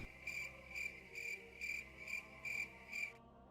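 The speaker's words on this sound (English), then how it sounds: "Where's my cricket sound effect?" Cricket chirps in a steady series of seven short, evenly spaced trills, fairly close and clear, then cutting off abruptly with no voices.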